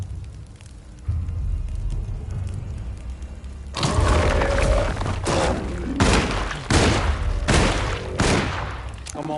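Gunfire in the survival horror game Alone in the Dark: a low rumbling lull gives way to a series of five or six loud, booming shots spaced about a second apart, with no talk over them.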